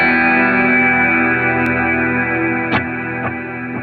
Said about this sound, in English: I'm trying to make sure I have every effect off. So the only thing you're hearing is the Brig.